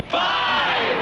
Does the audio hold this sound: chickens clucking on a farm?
no